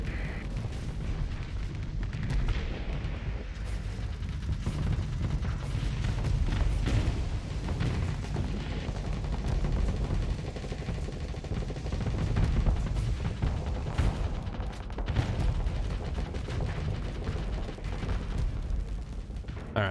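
Weapons fire and explosions fill a space battle in the video game Starsector, with dense overlapping booms, rapid gunfire bursts and heavy blasts rumbling continuously.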